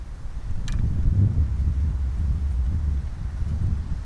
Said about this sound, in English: we've had a bit of trouble with the wind as well